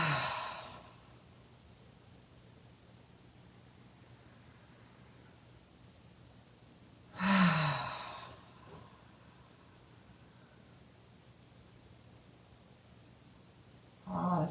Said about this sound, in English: What can you release? 2 letting go breaths.